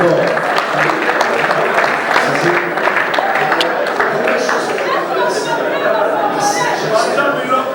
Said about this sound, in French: est-ce qu'on peut acclamer bien fort?